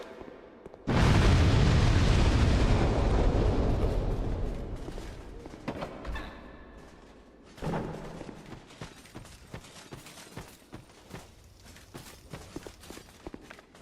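A bomb blows up in Peak Souls 2 with a loud, sudden boom that roars on for several seconds and slowly decays, followed by scattered crackles and a second smaller burst.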